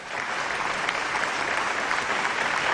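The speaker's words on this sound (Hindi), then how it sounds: "मैं चाहता हूं कि उनके लिए भी आप जोरदार तालियां बजाएं" An audience at a stage tribute to the Bachchan family bursts into loud, sustained applause, a dense, even roar of clapping that continues with no break.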